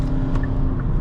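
A 2023 Hyundai Santa Fe midsize SUV engine revving hard while accelerating to merge onto the highway, a loud steady drone held above 4,000 RPM for a brief moment with no talk.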